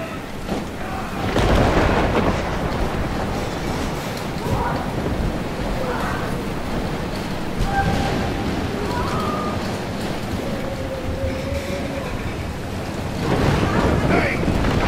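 Thunderstorm in Life is Strange: steady roaring wind and rain hold throughout, with heavier rumbling surges near the start and end and faint tonal game sounds in between.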